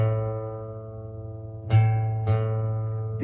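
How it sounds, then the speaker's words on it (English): A guitar's open A string in standard tuning rings out as a single sustained note, then two more plucked notes follow near the end, fairly quiet and close with no talking. "which happens to be my next string tuned openly if I'm in standard tuning"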